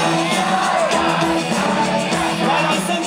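A large concert crowd at a show shouts and yells along in a dense, continuous roar that stays loud across the whole moment.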